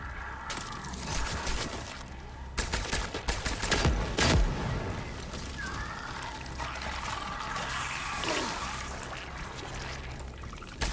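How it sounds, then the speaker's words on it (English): Carbine fire in the sci-fi horror game Cronos: The New Dawn, sharp bursts of shots clustered early, then a heavy boom and ongoing rumbling, metallic and watery effects with no voices. "The carbine kind of powerful"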